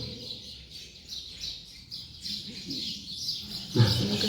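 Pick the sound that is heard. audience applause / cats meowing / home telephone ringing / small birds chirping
small birds chirping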